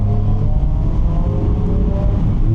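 A Toyota GR86 drives along a road with a steady, loud engine drone and road roar that holds constant throughout, no voices over it.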